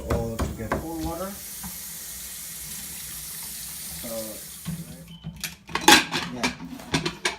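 Cold water runs from a kitchen tap during curry cooking, a steady splashing hiss that cuts off near the end, with brief speech and clattering around it.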